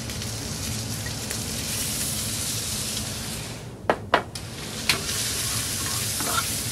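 Pumpkin seeds, tomatillos and bread roasting in a pan make a steady, dense sizzle, with a few sharp clicks and pops as the food is stirred.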